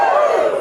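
A live audience at a Cheltenham Science Festival 2023 talk lets out a loud, brief burst of cheering and whooping, close and lasting well under a second.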